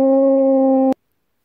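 A French horn holds a single steady G note, loud and close, for just under a second before it cuts off abruptly into silence.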